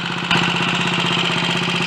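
A restored BSA Starfire motorcycle engine idles steadily up close, its primary side now quiet after an alternator rotor and primary chain fault were fixed, giving an even, rapid mechanical beat that grows slightly louder after a brief moment.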